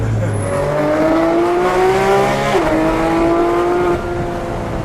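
A green 2016 Porsche 911 GT3 RS engine revs hard from inside the car, climbing through gears with quick upshifts and a brief dip around each change, loud and continuous throughout.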